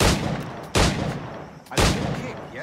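Three loud pistol shots ring out in Assassin's Creed IV Black Flag, evenly spaced about a second apart. Each sharp crack is followed by a short ringing tail.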